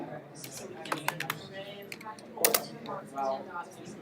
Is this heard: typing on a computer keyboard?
yes